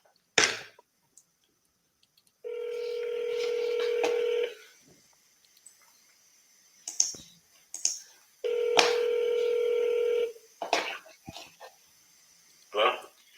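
Two sustained electronic dial tones, each about two seconds long, separated by a scatter of short keypad-like clicks and blips. A brief burst of talk is audible at the start.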